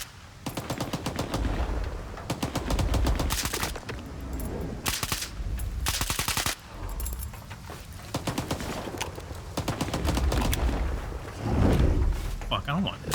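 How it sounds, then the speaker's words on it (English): Mercenaries fire at the player in S.T.A.L.K.E.R. 2, loud rapid automatic bursts and single cracks packed close together for the whole stretch, with heavier blasts mixed in and a voice talking over the shooting. "Some of them are starting to shoot at me like assholes."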